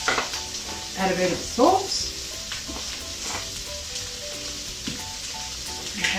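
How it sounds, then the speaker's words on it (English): Cauliflower pieces fry in hot oil in a pan, giving a steady sizzle with stirring and scraping bursts near the start, while a voice briefly speaks over it. "once the oil is hot, so you just add your cauliflower into the pan"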